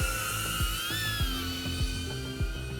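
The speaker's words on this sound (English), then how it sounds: "It's a ducted drone." Whining buzz of a DJI Avata ducted drone in flight, steady and loud with pitch shifts as it maneuvers, close by, with rhythmic low thumps underneath and no voices.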